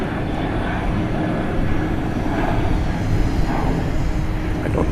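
Jet airliner operated by T'way taking off at Gimpo International Airport in Seoul, a steady broad roar heard from an observation deck, continuous and moderately loud.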